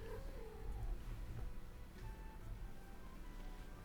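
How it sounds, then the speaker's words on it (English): A cat makes a faint, low cry or purr near the listener, barely rising above a steady rumble of room noise. "Our cat came by, but she hates us now."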